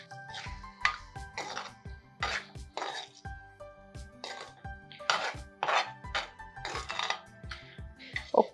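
Spoon stirring quinoa vegetable khichdi in a pot, with repeated metallic clinks and scrapes against the pot in an irregular rhythm, close and fairly loud.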